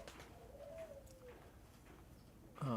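A pigeon gives a soft, low cooing call, faint and somewhat distant in a quiet room, followed by a brief louder sound at the end.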